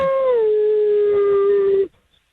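A single dog howl rises and then holds one long, loud, sustained note up close before cutting off abruptly into silence.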